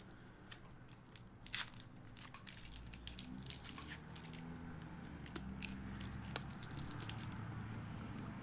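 Close, crunchy bites and chewing of a Crunch Bar chocolate snack, with irregular crisp crackles and clicks spread through the stretch, no talking.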